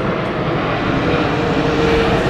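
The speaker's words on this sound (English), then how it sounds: "that's coming into land at the airport" A jet airliner descends on approach to land at an airport, producing a loud, continuous engine roar that holds steady throughout.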